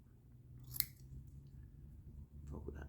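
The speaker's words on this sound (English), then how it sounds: "Trim off a little bit of the excess of the fabric." Scissors make one sharp snip through excess upholstery fabric while an antique church chair is reupholstered. Soft rustling follows in a quiet room.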